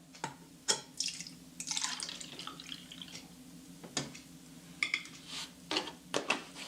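Leftover liquid being emptied out of a gallon jug, heard as irregular close splashes and drips with clinks of a container, interrupted by short pauses.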